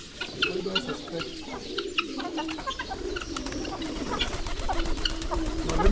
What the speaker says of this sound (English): It's a pure white pigeon like that.